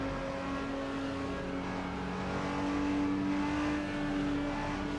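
A race car engine droning steadily at low revs on an out lap in the racing sim Le Mans Ultimate, a constant tonal hum with faint tyre noise, loud and even throughout.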